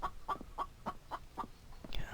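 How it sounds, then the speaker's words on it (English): A chicken in the video game The Infected clucks in a quick, regular series of about seven short, clipped notes, close and moderately loud, followed by a brief rising squawk at the end. "Oh man, that chicken."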